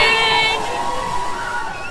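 A crowd gathered in New York for the Thanksgiving Day parade, a steady wash of voices with some shouts and cheers, loud and continuous throughout.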